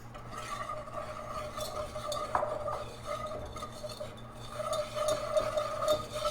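Flour and spices being stirred into melted butter in a pan for a savory cheese soufflé, a steady scraping and rubbing of utensil against pan with faint sizzle, continuous and close, without speech.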